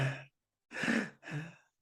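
A person takes heavy, audible breaths in close up, first a short breath and then two longer, deep breathy pulls separated by brief silences, with no talking.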